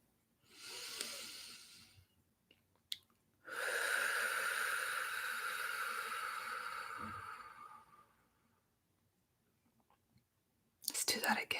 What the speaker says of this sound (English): just take a deep breath